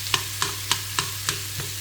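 Three onions frying in a little oil in a pan, a steady close sizzle broken by about six evenly spaced scraping strokes of stirring, no talking.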